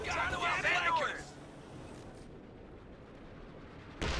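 Gunfire cracks overhead during a video game battle, a steady crackling wash under a voice talking at the start, ending with a sharp loud burst.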